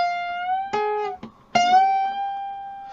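Electric guitar played on the high E string at the 15th fret: a clean, sustained single note rings out alone, broken by a couple of quick picked attacks before settling back into a long, steady tone.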